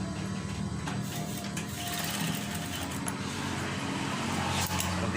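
Sewing machine stitching accessories onto a curtain, a steady continuous whirring motor with fast rattling needle action, close and even throughout, with a few faint clicks.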